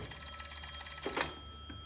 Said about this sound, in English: You should answer the phone, Mr. Shelby.